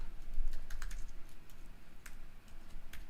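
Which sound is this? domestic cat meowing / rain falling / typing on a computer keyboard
typing on a computer keyboard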